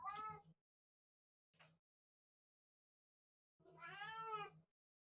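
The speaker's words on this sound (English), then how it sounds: "very attention-demanding cat" A very attention-demanding cat named George meows three times nearby, once short, then a brief chirp, and after a pause a longer drawn-out call, with silence in between.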